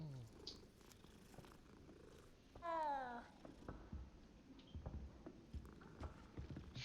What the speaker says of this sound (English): There's another kitty. You can pet the kitty.